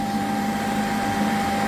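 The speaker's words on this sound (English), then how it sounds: "That is that thing sucking out the vacuum." A Shark AI Ultra robot vacuum's self-empty dock sucks debris out of the docked robot with a loud, steady whooshing roar and a sustained motor whine, constant throughout with no talking.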